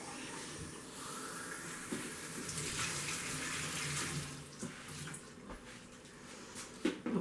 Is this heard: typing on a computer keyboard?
no